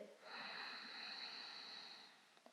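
A long, deep inhalation during a yoga vinyasa flow, a steady airy breath with a soft whistling edge drawn in over about two seconds, close and quiet, then fading out.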